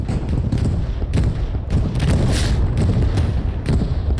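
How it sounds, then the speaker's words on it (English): Rolling bombing-run explosions and heavy gunfire in a World War II multiplayer shooter match set at Sainte-Mère, a dense loud barrage of booms and crackling shots continuing throughout without pause. "Bombing run takes out the satchel and our friendly engineer"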